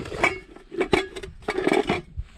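A light aluminum camping cook set pot and pan set down outdoors on uneven ground, several close metallic clanks and rattles in quick bursts, each with a short ring.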